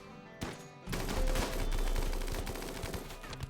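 Rapid bursts of gunfire from colonist gunners in the video game RimWorld crackle in a dense, loud fusillade, shots overlapping like machine-gun fire after a brief quieter opening.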